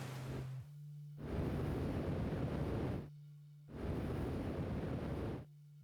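Surging bursts of ocean water splash and roar in two long, loud swells separated by brief near-silent gaps, from the VR game Outer Wilds, with no voices.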